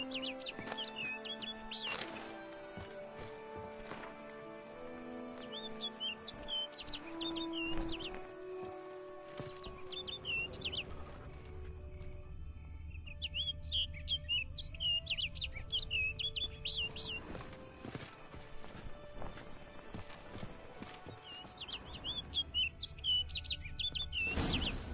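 Game birds in The Witcher 3 give repeated bursts of high, quick chirps in short phrases, set against layered ambient music and low rumbling tones.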